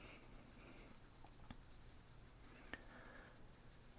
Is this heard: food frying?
no